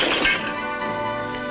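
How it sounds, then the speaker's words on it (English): A stone smashes a window in a single sharp crash, loud and close, followed by a brief ringing tail of breaking glass. "As a stone smashed the window"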